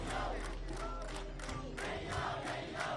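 A crowd gathering outside a college campus, a loose murmur of many voices with scattered shouts rising and falling at a moderate distance.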